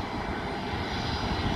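A Scoot Tiger Air airliner's engines roar in a steady, loud, broadband drone as the plane prepares to take off, continuous and close, with no voices.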